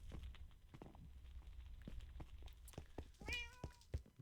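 Cats meow in Minecraft, one clear rising-and-falling meow near the end, over soft footsteps and thumps at a low, close level.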